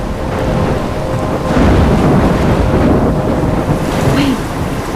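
A thunderstorm rages in the video game Life Is Strange, heavy rain hissing steadily while deep thunder rumbles and swells loudly through the middle.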